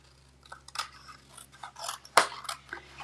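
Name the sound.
scissors trimming card paper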